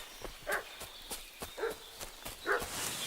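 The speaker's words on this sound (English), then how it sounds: "What's that dog making such a fuss about?" A dog in Kingdom Come Deliverance II barks in a series of short, sharp yelps spaced about a second apart, fairly close but not loud, with light background ambience between barks.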